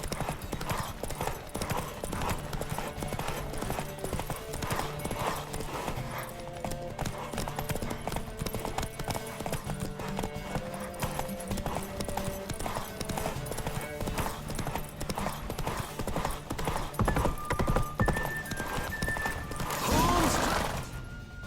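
A horse gallops at speed in The Witcher 3: Wild Hunt, with rapid steady hoofbeats drumming throughout over a game music bed, and a louder burst of movement near the end.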